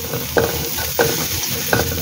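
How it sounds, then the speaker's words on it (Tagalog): Onion fries in a pan for leftover-food cooking with a continuous loud sizzle, broken by three scraping stirs at a steady pace. "sunod naman natin yung ating onion. Ito ang ating onion. Ayan, kisa lang natin. Medium fry lang tayo."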